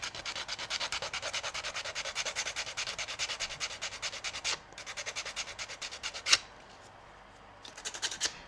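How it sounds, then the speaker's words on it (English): Sandpaper scrubs across wooden boards in quick, steady back-and-forth strokes, close and rhythmic, broken by a short pause and a sharp scrape near the end. "So you need to scratch and sand it all over the boards"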